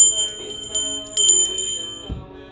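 A bell struck for sound healing, with bright sustained metallic tones ringing and overlapping, then a soft low thump near the end. The ringing is near and moderately loud.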